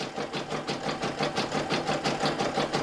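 A Brother PE770 embroidery machine runs steadily, its needle stitching in a fast, even mechanical rhythm with a constant hum, close and moderately loud with no talking.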